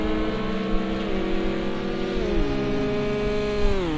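A race car on pit road at Rouen in a WEC race, a loud steady engine note close by with harmonic tones that shift downward as it eases its pace, no talking.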